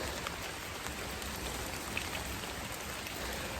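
Steady rain falls outdoors as an even, continuous hiss of drops on surfaces, moderately loud and unbroken, with no voices.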